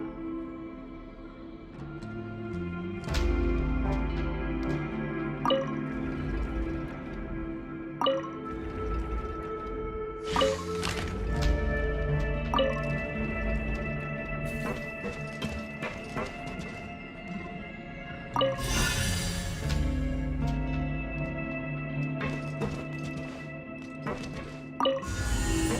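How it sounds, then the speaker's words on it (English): Water rises in a Genshin Impact game level with scattered drips and watery splashes against a sustained tonal music bed. A few louder surges of water stand out along the way. "the water level's gone way up"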